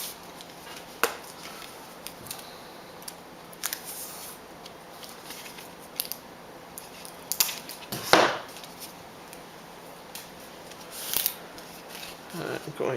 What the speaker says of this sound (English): I'm going to put my 3 rows of tape.